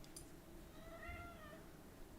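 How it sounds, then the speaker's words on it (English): A hungry cat lets out a single drawn-out, rising-and-falling meow, fairly faint against a steady background hum indoors. "Cat's hungry."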